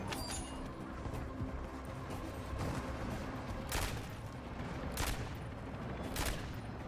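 Pistol shots with explosive rounds go off in Modern Warfare Zombies, several sharp bursts spaced a second or so apart over a dense, rumbling game soundscape.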